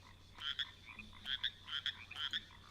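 A person imitates a frog, making a string of short, bubbly croaks in quick pairs and clusters, close and fairly quiet over a steady low background hum.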